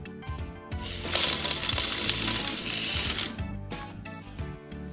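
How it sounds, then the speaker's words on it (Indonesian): Sugar poured into a bottle in a steady granular rush lasting a couple of seconds, framed by a few clinks and taps of the bottle and container, close and clear with no talk. "Setelah itu kita masukkan gula"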